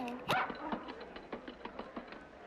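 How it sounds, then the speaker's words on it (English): One short dog bark rings out early, fairly faint and somewhat distant, over a quiet indoor room tone with small scattered shuffles afterward. "Wait, is that a dog?"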